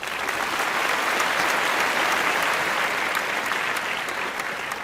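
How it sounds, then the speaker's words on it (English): An audience at a panel discussion on building a digital nation claps in sustained, dense applause, loud and even throughout with no break. "I want to give them a huge round of applause once again before we start the session"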